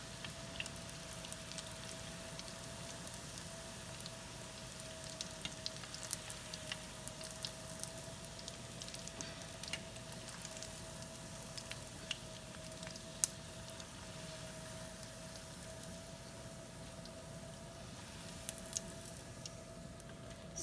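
Food frying in hot oil gives off a faint, steady sizzle with scattered small crackles and pops, continuing evenly throughout with no voices.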